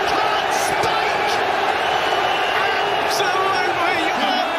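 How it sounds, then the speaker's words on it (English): Darts crowd at the world final roaring and cheering wildly in a packed arena, a dense, steady wall of noise throughout with occasional sharper whoops. "The crowd are going berserk."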